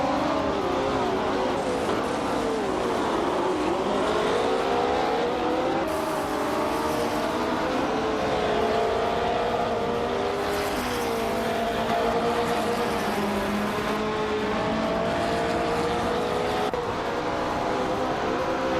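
A 1968 Porsche 909 Bergspider race car in a racing video game drives a steady, continuous engine drone that rises and falls in pitch as it shifts through gears, with faint tire noise, alone and fairly loud throughout.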